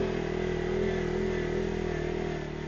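A CF Moto quad's engine drones steadily as it climbs out of a steep spot on a rail-trail, a loud, continuous mid-pitched hum with no speech.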